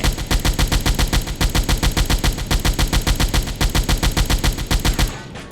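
Sustained machine-gun fire in the submarine game Silent Hunter 4, a loud, evenly spaced stream of rapid shots that runs steadily before cutting off abruptly near the end.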